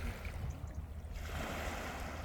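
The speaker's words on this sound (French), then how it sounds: "c'est vraiment petit clapotis comme ça, c'est serein" Small waves lap gently on a sea beach along a calm coastal path in Brittany, a soft continuous wash of water, fairly close and steady, with a light swell of surf in the second half and no voices.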